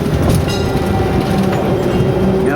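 A train at an Alaska mine site rumbles steadily and loudly up close, with continuous wheel and rail noise, faint squeals and clatter throughout, no voices.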